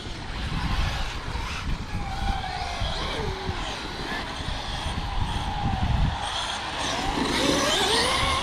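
RC car engine pushed hard on throttle, a high whining motor rising and falling in pitch with revving sweeps, heard at middle distance over background noise with people talking nearby.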